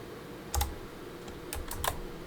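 A computer keyboard is typed on sideways in a few sparse clicks, one near the start and a small cluster near the end, fairly quiet against a soft steady background.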